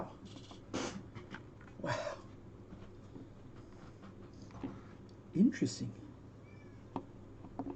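A house cat meows in a few short, scattered calls beside a person who is painting, mixed in with light handling noises and brief bits of speech.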